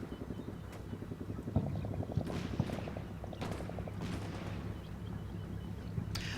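Artillery fire in a military simulation game during a Black Sea training graduation exercise: several heavy booms land at irregular intervals over a steady, droning engine hum, without speech.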